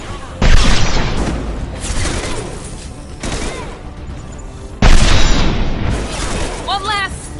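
Loud gunshots in the video game Mass Effect Legendary Edition, two heavy booming blasts a few seconds apart with lighter shots and rumbling echo between them, and a voice speaking over the action.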